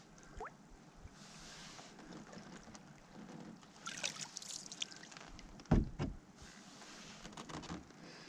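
A canoe is paddled across cold water in the snowy Glen Affric wilderness, with soft repeated splashes, dripping trickles and one sharp knock of the paddle against the hull, quiet and close with no talking.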